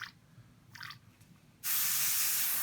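Airbrush blow back with paint and thinner while painting a miniature: a couple of short faint hisses, then a sudden loud sustained spray hiss that runs steadily to the end.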